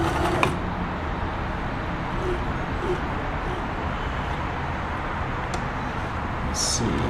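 A Kenmore 1350 sewing machine running a stretch blind hem stitch, giving a steady close mechanical whirr and drone throughout, with a couple of faint higher ticks.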